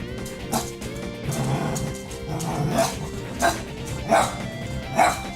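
A dog barks late at night in a room where Pokémon Colosseum game music plays, several sharp barks and yips rising over the steady music, fairly near and moderately loud.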